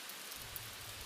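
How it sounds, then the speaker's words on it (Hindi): Steady heavy rain pours down in a cartoon storm, a dense, even hiss with a low rumbling undertone, fairly quiet and unbroken across the short moment with no voices. "सोमू ने देखा कि बारिश की बूंदें अब और भी तेज हो गई हैं।"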